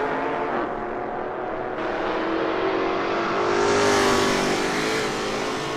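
Race car engines in a sim racing game of an ATCC VK versus XE touring car championship, a loud continuous roar that rises and swells as cars pass, with no speech.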